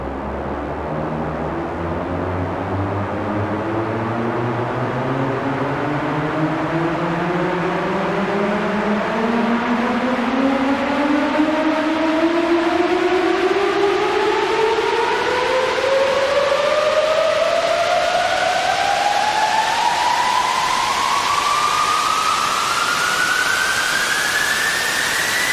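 A long, intense 16-bar riser from an Arturia Synthi V synthesizer: loud, steady, noisy tones sweep smoothly upward in pitch over about 25 seconds with layered harmonics, and no voices.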